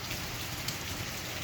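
Steady rain patters on leaves, a dense, even hiss of countless drops with no distinct individual hits, continuous and close throughout the short stretch.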